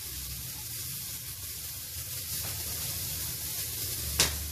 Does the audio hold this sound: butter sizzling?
yes